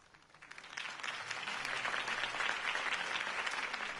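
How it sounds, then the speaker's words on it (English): Broad applause from a large crowd at a political speech in Batman: The Telltale Series swells in after a quiet start and holds steady, a dense wash of clapping at moderate distance. "could have heard that applause"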